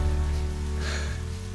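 Rain falling in a scene from the TV drama One Tree Hill: a steady, soft hiss of rain beneath sustained tonal music, with no voices.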